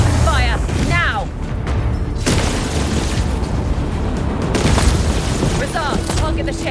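Spaceship weapons open fire in the space combat game Chorus, with loud booming blasts and bursts of gunfire mixed under music and combat chatter, rumbling continuously with sharper impacts.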